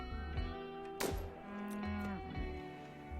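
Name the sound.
cow mooing in the video game RimWorld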